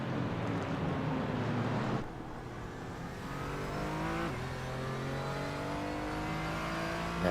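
GT4 race cars in sim racing qualifying at Suzuka: a loud, steady engine whine with rising gear-change pitch sweeps as the car accelerates, and other cars close by.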